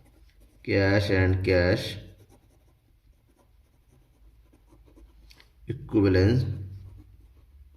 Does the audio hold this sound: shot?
no